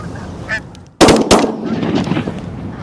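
A single loud, close shotgun blast during a goose hunt, followed by a second shot and reverberating echo, with faint goose honking and calling sounds just before.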